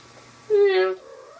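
A single drawn-out meow, rising then falling over about half a second, loud against a quiet background, with no other voices around it.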